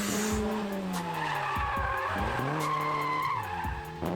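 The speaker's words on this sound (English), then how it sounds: "That's a full drift right there." A front-wheel-drive Honda making about 104 horsepower drifts on RF1 tires, the engine note falling and rising as the tires squeal and skid continuously, loud and close, with several sharp squeal bursts.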